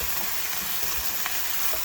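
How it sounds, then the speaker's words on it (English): Ground beef frying in a pan for tacos, a dense, steady sizzle and crackle that stays loud and even throughout with no talking. "as your ground beef is cooking"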